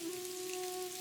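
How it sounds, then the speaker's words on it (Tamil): Heavy rain pours down as a brief, steady wash of hiss, with a faint sustained hum running underneath. "கொஞ்ச நேரத்துக்கு அப்புறமா பயங்கரமா மழை பெய்ய ஆரம்பிச்சுது."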